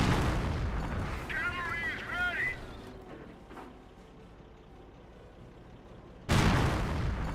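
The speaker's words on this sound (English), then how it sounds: "We're drawing fire from their armor!" Artillery and gunfire in the World War II strategy game Company of Heroes: heavy booms at the start and end with a brief whistling passage between, plus a quieter spell in the middle.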